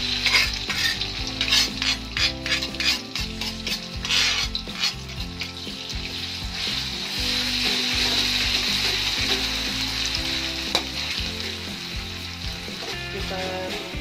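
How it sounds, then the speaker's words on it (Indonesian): Ground spice paste for seblak fries in a pan, a loud continuous sizzle with repeated stirring scrapes and utensil knocks, close up throughout with no voices. "Sekarang kita langsung goreng."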